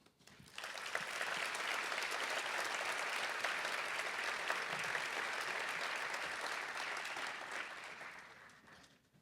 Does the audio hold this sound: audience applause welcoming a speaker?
yes